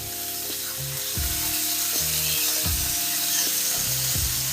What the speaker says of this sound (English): We're just going to fry this up in our oil.